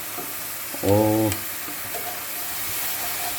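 Keema with green chillies fries and sizzles steadily in a pan as it is stirred, a constant close hiss with a brief spoken word over it.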